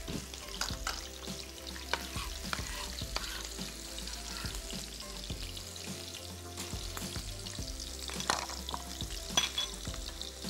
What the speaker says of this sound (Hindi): मोटी वाली हरी मिर्च हमने 3-4 अदद लेके उसको लंबाई में काट लेना और इसको भी तेल में फ्राई के लिए छोड़ देना है।